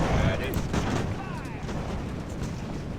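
Musket volley from an age-of-sail naval battle in Ultimate Admiral: Age of Sail, a booming burst of massed gunfire followed by rumbling echoes and battle din, with a voice speaking over it.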